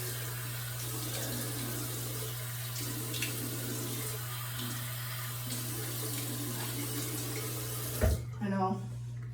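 Tap water runs steadily into a sink while someone washes their face, a continuous close splashing flow that cuts off near the end as a voice starts speaking.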